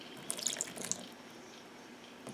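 Water poured onto an MPow SeaShell Bluetooth headset, a quick patter of splashes and drips up close, then quiet.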